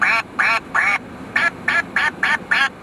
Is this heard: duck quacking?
yes